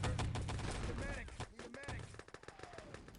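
Artillery and gunfire in Enemy Territory at a Nations Cup 2014 Germany vs Estonia match, a dense mix of shots and impacts that thins into scattered bursts, with voices talking over it.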